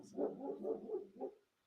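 A dog lets out a run of four or five short, yappy barks in quick succession, close by and moderately loud, then falls quiet.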